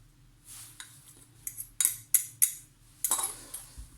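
A fork mixes tart dough with an added egg in a bowl, giving a quick series of sharp metallic clinks and scrapes against the bowl, close and distinct, in irregular bursts after a quiet start.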